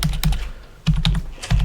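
Fingers type on a computer keyboard nearby, with quick clusters of crisp key clicks separated by short pauses.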